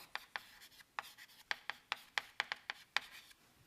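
Chalk taps and scratches across a board during a math lecture come as a quick, irregular run of short strokes, close and fairly faint, with no voices.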